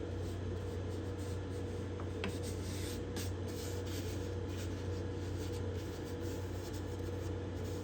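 Hand scraper working the binding and purfling along a cedar top on a Desmond guitar: steady close rasping strokes with a few brief sharper scrapes over a constant hum.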